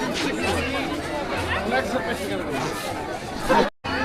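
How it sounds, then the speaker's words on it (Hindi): A growing crowd at Jakhu temple chatters in a steady, dense babble of many voices close around, with no single voice standing out, before a sudden cut near the end. "अब जैसे जैसे दिन बढ़ता जा रहा है भीड़ बढ़ती जा रही है।"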